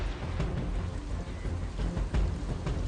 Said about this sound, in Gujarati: ક્યાંક ભારે પવન સાથે વરસાદ વરસ્યો છે